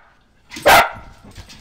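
A dog lets out a single loud, close bark, sharp and brief, standing out clearly over a quiet outdoor background with faint low rumble.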